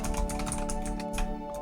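Rapid keystrokes tapped on a regular computer keyboard while typing symbols, a steady close clatter of clicks with no talking over it.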